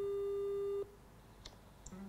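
A telephone busy tone after a hung-up call: a single steady electronic tone holds for under a second, then cuts off and leaves quiet room noise with a couple of faint clicks and a soft beep.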